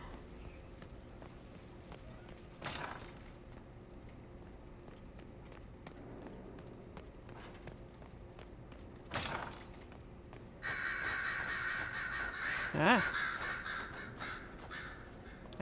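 Crows caw in Dragon Age Inquisition, a few separate calls spread out over a steady game ambience, then a louder burst of cawing near the end with a brief voiced exclamation.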